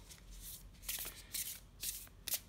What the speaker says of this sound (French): là je suis pas du tout à l'aise moi pour brasser les cartes quand c'est comme ça